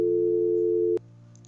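Phone call tone after a number is dialed on a mobile phone, one steady loud tone lasting about a second and then cutting off, followed by near silence.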